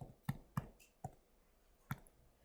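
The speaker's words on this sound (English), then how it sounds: "When I type that into my calculator, I get?" Four sharp, distinct button clicks from a calculator being tapped to enter numbers, spaced unevenly and close by in an otherwise quiet room.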